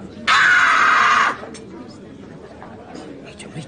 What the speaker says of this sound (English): Rita, what are you doing? Screaming.